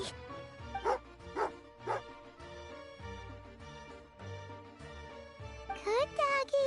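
In Genshin Impact, a dog barks and yips in short bursts over a plucked, tinkling game melody, with some soft whimpering and a chiming flourish near the end.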